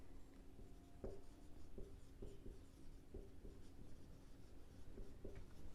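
A pen scratches across paper in a steady run of short strokes, faint and close, as an amount is written out during an accounts lesson, with no voices over it.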